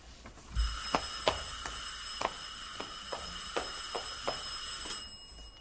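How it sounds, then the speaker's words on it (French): An old telephone bell rings in repeated short metallic trills at a steady pace, moderately loud in a quiet room, with no one speaking. "Bon, le téléphone."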